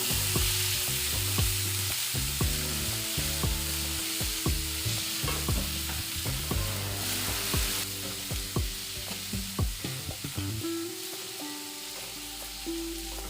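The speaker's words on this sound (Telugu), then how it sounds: "ఇందులో మనం ముందుగా కట్ చేసి పెట్టుకున్న టమాటా ముక్కల్ని కూడా వేసి ఐదు నిమిషాల పాటు మూత పెట్టుకొని మగ్గించుకోవాలి" Tomato and chilli pieces sizzle in a pan while being stirred for a tomato and coriander chutney, a steady close frying hiss broken by repeated scraping stirs.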